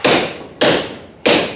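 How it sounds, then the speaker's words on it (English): A ball peen hammer strikes a mild steel bar three times at an even, unhurried pace. Each sharp, bright, close impact rings out and decays before the next blow. "I'm going to take this ball peen hammer and"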